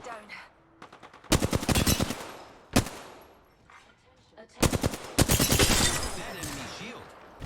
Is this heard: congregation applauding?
no